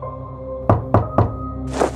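Three sharp knocks on an outside door at night, each a distinct thud spaced about a quarter second apart, close and loud over a low hum, followed by a brief rustle.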